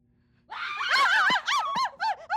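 A woman screams in fright, a loud, close series of shrill, wavering cries that rise and break into short bursts after a near-silent start.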